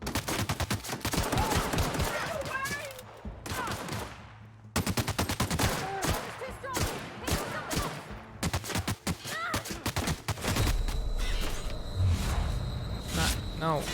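Gunfire comes in loud, rapid bursts and sustained volleys across the whole stretch, with brief gaps, over a busy, layered background, and voices talk in between.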